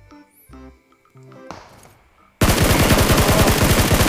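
A sudden loud burst of rapid automatic gunfire in PUBG Mobile erupts after quieter moments with faint voices, the fast shots rattling on steadily to the end.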